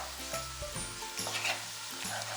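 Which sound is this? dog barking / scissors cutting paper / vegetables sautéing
vegetables sautéing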